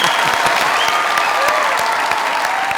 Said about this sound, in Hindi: जोरदार तालियां यार, जोरदार